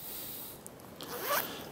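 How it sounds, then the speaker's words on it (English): A zipper on a detachable jacket hood is pulled in one short, close rasping stroke that rises quickly over about a second, with no talking. "You got to find the zipper."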